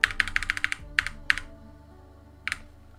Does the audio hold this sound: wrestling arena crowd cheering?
no